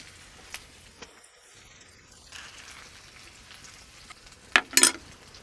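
Bacon and onions frying in a pan, with a faint steady sizzle under a couple of sharp scrapes and clatters near the end.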